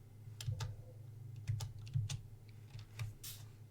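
Rapid clacking of keys on a computer keyboard, typed in short irregular bursts with brief pauses, close and fairly clear over a low steady hum, with no voices.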